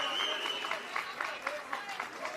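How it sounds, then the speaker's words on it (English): Crowd at a professional pickleball match between the Brooklyn Pickleball Team and Chicago Slice reacts with a steady murmur and scattered cheers, with brief swells recurring about every half second, moderately loud and close. "you hear some of the crowd responding"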